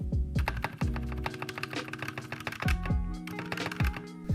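Akko 3068 Silent Bluetooth keyboard being typed on, its switches and somewhat mushy stabilizers giving muted, deep thocks in an uneven rhythm of several close keystrokes.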